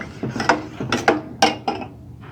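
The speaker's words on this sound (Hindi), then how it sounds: "इसको अब हम अच्छी तरह से मिक्स करते हैं" A spoon scrapes and clinks against a pot while stirring a flour-and-water paste for samosa sealing, in a series of uneven strokes, about five or six distinct scraping knocks, close and fairly loud, with no talking.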